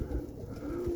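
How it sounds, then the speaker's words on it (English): Roller pigeons coo close by, a soft low rolling coo with a steady tone rising near the end, over breezy wind noise as the wind picks up ahead of an April snowstorm. "So the birds are reacting towards the wind right now."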